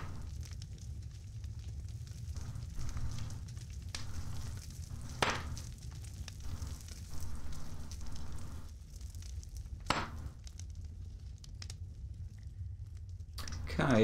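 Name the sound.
campfire burning in the video game Wurm Unlimited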